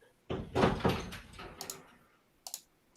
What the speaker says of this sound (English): I think that was the door crashing